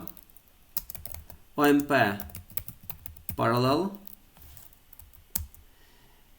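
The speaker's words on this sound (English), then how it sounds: "What I'm doing now, I'm typing here pragma" Fingers tap out an OpenMP pragma on a computer keyboard, with scattered close clicks and short bursts of keystrokes broken up by someone talking.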